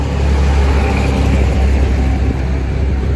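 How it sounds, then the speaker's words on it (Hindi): A truck rolls along a street in Pattaya, Thailand, its loud, close engine rumbling steadily with a continuous low roar of traffic throughout. "मुझे इस ट्रक की आवाज़ से बचना था, इसलिए मैं रुक गया, मैंने पॉज दिया।"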